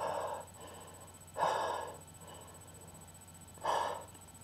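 Heavy breathing through a face mask, two loud breathy inhales about two seconds apart, close to the mic, with a faint steady hum underneath.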